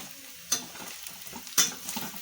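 Carrots tipped into a pan of frying vegetable sauce with groundnut oil and stirred, giving a steady soft sizzle under two sharp scraping clatters of the spoon against the pan.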